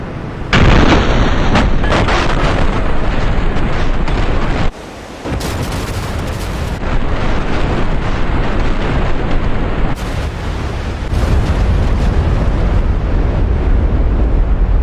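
Loud, heavy bomb explosions boom continuously in the DCS flight game during a Doolittle Raid reenactment with 500-pound bombs, dense roaring blasts that briefly drop away before surging back, no talking.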